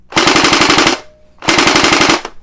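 A Splat-R-ball SBR 1200 gel blaster fires two loud, close fully automatic bursts of rapid, evenly spaced shots, each lasting under a second with a brief pause between them.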